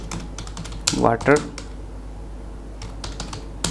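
Keystrokes on a computer keyboard as a topic is typed into an AI presentation generator, a few sparse clicks scattered before and after a brief spoken word.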